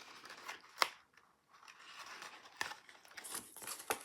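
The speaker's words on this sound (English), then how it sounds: "Fold it up, matching the tab and the side so that we get a nice sharp corner." Paper tabs on a gable box are folded by hand: sharp crinkles and snaps of creased paper, with a couple of distinct louder clicks among softer rustling, close up and with no talking.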